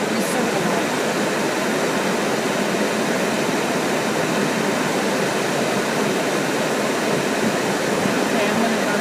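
An air conditioner runs with a steady, even hiss of blowing air that stays constant throughout, close and moderately loud, with no other sounds.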